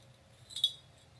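A clear glass Christmas ornament with a chrome design gives a single faint, bright clink as it is handled, in an otherwise quiet room.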